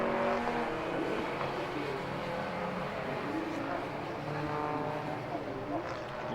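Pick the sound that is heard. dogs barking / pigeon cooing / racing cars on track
racing cars on track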